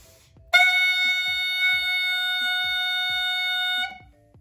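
A clarinet mouthpiece sounds a single sustained F sharp, a bright, buzzy reed tone held steady for about three seconds, close and loud, with nothing else playing.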